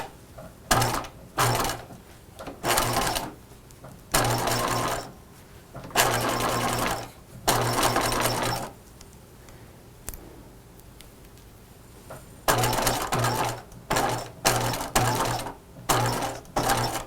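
A home sewing machine runs a short zigzag satin stitch across a belt loop on a pair of pajamas, in repeated loud whirring bursts of a second or two, separated by brief pauses.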